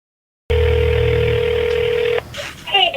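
On a recorded phone call, a steady telephone tone sounds for under two seconds after a moment of silence and then cuts off, followed by short, faint electronic phone sounds at the end.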